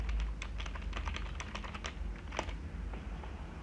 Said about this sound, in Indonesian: Nah, saya ketikkan nama saya